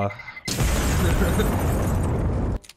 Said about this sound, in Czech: A přežil jsem díky tomu výbuch.